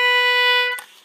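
A single sustained B note from an English concertina rings clearly and steadily for under a second, then cuts off into a brief soft release.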